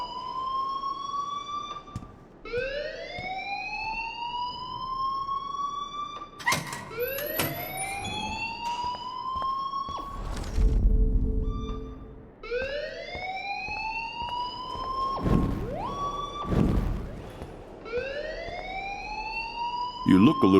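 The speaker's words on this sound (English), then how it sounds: "please turn off that alarm since that's your job" A rising, repeating siren-like alarm rings in the video game Life Is Strange, sweeping upward in pitch again and again over about twenty seconds, with people talking and other noises over it at times.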